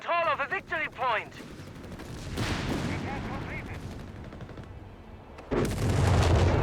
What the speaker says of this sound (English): Bring up the 30 cal. Air-cooled machine gun there.